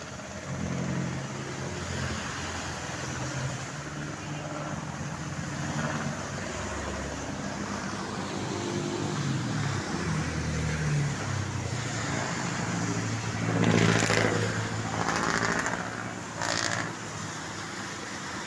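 Steady highway traffic rolls past a roadside home in San Fernando, Pampanga, a continuous near-field rumble of cars with a louder vehicle passing close by toward the end.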